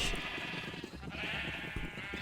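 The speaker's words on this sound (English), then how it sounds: "All right, all these sheep have been bred, and let's breed all the ones in the back." Sheep in Minecraft bleating in a steady overlapping chorus, several animals calling at once at a fairly close, even level with no talk.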